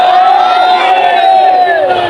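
Crowd voices ring out together in a loud, sustained group chant of the takbir at a religious gathering, a dense wash of many voices held steady throughout.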